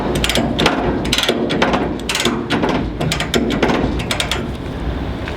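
A ratchet strap being tightened on a shipping container, loud close clicking of the pawl in repeated quick bursts with brief pauses between strokes, no voices over it.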